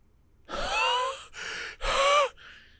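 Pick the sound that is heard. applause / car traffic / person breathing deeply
person breathing deeply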